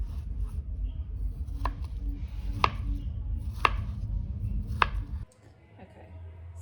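A knife cuts through a dragon fruit with four crisp, evenly spaced taps against a board over a low background rumble, then the scene goes quiet.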